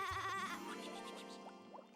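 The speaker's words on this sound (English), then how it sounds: "I love the way they leap and go bah." Young goat kids bleating, a wavering, nasal baa that is loud and close at first, then trails off into softer, higher cries over a steady background.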